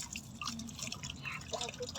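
Water drips and sloshes softly as cleaned kuchia fish are rinsed by hand, a faint splashing at close range with no talk.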